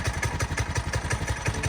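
Trailmaster Mini Go Kart small engine idling with the choke pulled out while warming up, a steady close-up putter of even, rapid thumping pulses.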